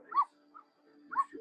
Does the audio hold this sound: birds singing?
no